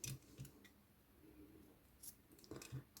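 Scissors snipping crochet yarn, a few quiet close-up clicks and snips scattered over a few seconds with soft handling noise between them.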